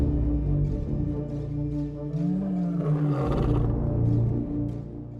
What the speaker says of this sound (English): lions utilize one of the most terrifying sounds on the savanna, the long-distance roar